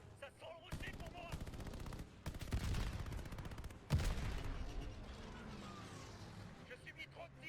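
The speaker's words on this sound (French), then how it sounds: "Je subis trop de tirs." Rapid bursts of automatic gunfire and single shots in the World War 2 Pacific shooter Call of Duty: Vanguard, loud and clustered with pauses between volleys, over a continuous game backdrop.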